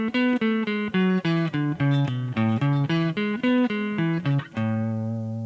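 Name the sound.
guitar A note, 5th fret of 6th string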